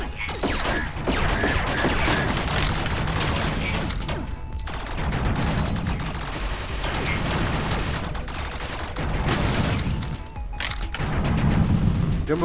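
Heavy gunfire from the Jumbotron firing at players in the VR game Big Guns rattles on continuously in dense, loud bursts, with mechanical clanking and occasional booms.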